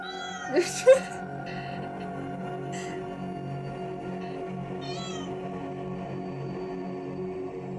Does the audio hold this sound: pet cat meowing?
yes